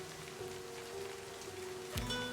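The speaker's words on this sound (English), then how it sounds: "The raindrops fall on the paper, blending with soft patters." Soft, steady rain patters across a surface inside a video game, a faint even wash of drops with a brief tonal swell near the end and no talking.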